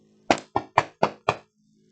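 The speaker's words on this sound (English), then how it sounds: "Harry knocked." Five firm, evenly spaced knocks land on an office door, close and resonant, each one a sharp thud that dies away quickly before silence.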